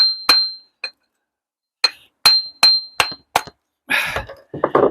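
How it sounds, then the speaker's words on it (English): A brick offcut is trimmed to fit in a bell tower wall, sharp metallic hammer-and-chisel strikes ringing out in a rapid series of clinks, followed by scraping crumbles. "So what I'm going to do is trim a bit off it."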